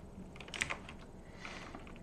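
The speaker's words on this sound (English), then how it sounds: "I'm gonna do a typing test." Keys clatter on a computer keyboard during a typing test, a soft, quiet run of close clicks with a few sharper taps, and no voices.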